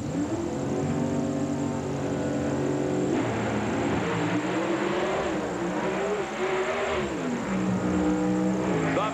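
Oldsmobile drag race cars at the 1995 NHRA US Nationals at Indianapolis Raceway Park, with loud roaring engines revving and shifting in pitch under the blaring crowd-filled track ambience.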